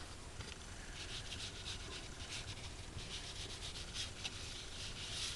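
Dried marigold rubbed lightly over a pad on glycerin-treated faux leather, a steady soft scratchy brushing that runs the whole time without pause, close and continuous with faint breathy texture.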